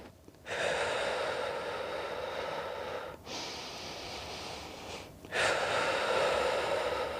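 Three long, forceful breaths during a core workshop exercise, loud and close to the mic, each a steady hiss lasting a couple of seconds with brief pauses between, and no talking.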